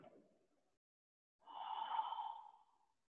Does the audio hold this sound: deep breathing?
yes